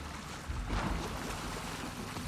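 Boat engine in The Last of Us Part 2 running as a steady low rumble under wind and water wash, fairly close and continuous with a slight swell early on.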